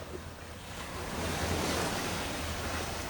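Sea waves wash steadily onto Worthing beach in Barbados, a continuous broad surf roar that swells slightly midway, with wind buffeting the microphone and no voices.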